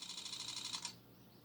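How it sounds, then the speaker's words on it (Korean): A DSLR camera shutter fires a quick three-shot burst, producing a series of crisp, evenly spaced mechanical clicks close up, followed by a faint whir as the frames are saved. "셔터를 반 누르면은 이렇게 초점이 잡히고 꾹 누르면 하나 둘 셋 3컷이 찍힙니다"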